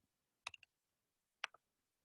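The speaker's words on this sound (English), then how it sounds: "I'm gonna type it out here so you can see it" Two quick bursts of crisp computer keyboard key clicks, a shortcut typed in small clusters about a second apart, close and fairly quiet against near silence.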